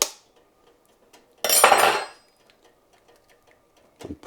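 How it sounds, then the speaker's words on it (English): An egg cracks with a single sharp crunch and a short rustle, close up in a quiet kitchen, followed by faint clicks. "but crack an egg"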